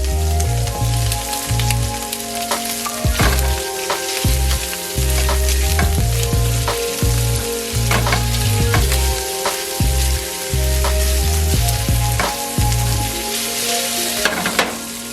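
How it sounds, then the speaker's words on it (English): Food sizzling and frying in a pan while a utensil stirs and scrapes it in a repeated rhythm, close and steady throughout. "And so now I'm just stirring everything, making sure it doesn't stick."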